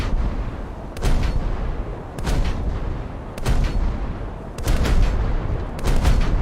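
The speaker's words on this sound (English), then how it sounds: "the front gun is now in action" Naval guns boom from a Japanese coastal warship in a naval combat game, five heavy blasts spaced about a second apart, each a sharp loud report with a rumbling tail over a steady low engine and sea drone.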